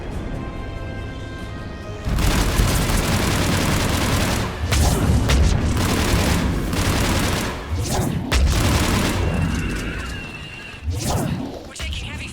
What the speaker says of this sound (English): We're taking heavy fire from the second story.